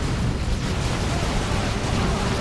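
Dense, roaring explosions as Guardsmen are blown up in the strategy game Dawn of War II: Retribution, a continuous loud rumble of blasts with no clear gaps between them.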